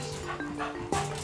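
A Staffordshire bull terrier gives a short burst of close yips and whimpering barks, ending in a sharper bark, over a steady low hum.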